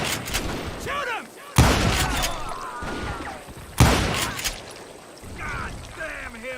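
Loud gunshots crack in a video game battle, two sharp blasts with echoing tails, amid scattered game sound effects and vocal noises.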